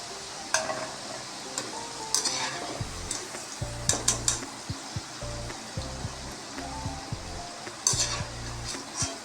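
Small potato pieces sizzling in plenty of hot oil in a pan while a utensil stirs and scrapes them, with steady frying hiss under repeated clanks and knocks.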